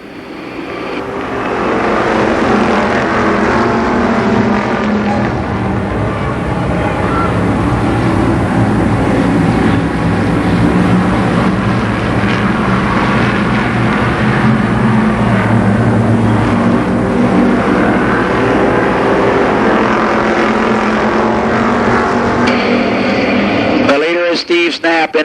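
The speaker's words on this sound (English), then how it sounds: "Eight laps for the street stocks in this, the second street stock heat race" Street stock race cars in an eight-lap heat race at Columbus Motor Speedway, a dense, continuous roar of many engines, loud and sustained, with an announcer talking over the pack.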